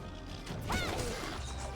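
A monster's tail snapping off in the video game Monster Hunter Stories 3, heard as one sharp crashing smash over steady game music and effects.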